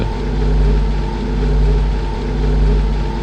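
Steady low spaceship engine drone from the video game Scavenger S-4, a continuous rumbling hum with gently swelling loudness and no talk over it.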